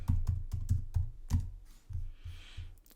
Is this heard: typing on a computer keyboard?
yes